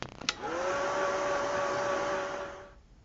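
A hair dryer blows steadily on an art journal page for nearly three seconds after a brief click as it switches on, a loud, even whoosh with a faint motor whine, then winds down at the end.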